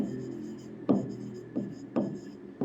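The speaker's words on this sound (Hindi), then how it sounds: "सो यहाँ पे मैं सीधा इसका डिटेल में उसको लिखता हूँ" Marker or chalk writing on a board during a biology lesson, with rhythmic scratching strokes and a few sharper taps, heard close under a steady background hum.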